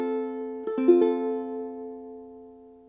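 Ukulele strumming an F chord, a full ringing strum with a couple of quick restrikes early on, then a long decay fading out, played alone and close.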